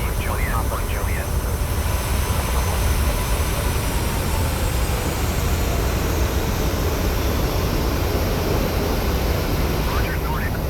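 Airliner jet engines in a flight simulator game hum loud and steady while the plane taxis to gate 46, a broad continuous roar with brief radio-style voices near the start and end.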